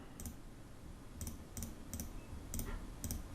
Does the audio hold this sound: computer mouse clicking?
yes